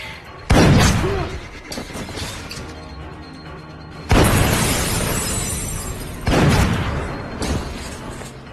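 Repeated gunshots strike a man named Gary in a film scene: three loud, sharp broadband bursts, each followed by a decaying crash-like tail, separated by stretches of lower rumble.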